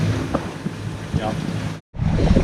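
Wind buffets the microphone in a steady, loud rush while ocean surf washes around a sailboat in open sea during a squall, with brief murmurs beneath and a short dropout near the end.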